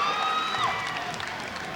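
An enthusiastic basketball crowd fills the arena with a steady, dense roar of cheering and shouting, loud and continuous for a brief moment.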